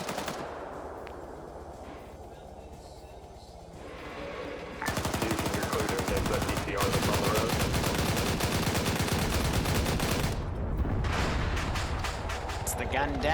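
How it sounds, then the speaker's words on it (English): Machine-gun fire in the military shooter Arma 3, starting as a distant rumble and then turning into dense, loud, sustained automatic bursts that dominate most of the stretch, with people talking underneath. "He's taking fire from a few other machine guns."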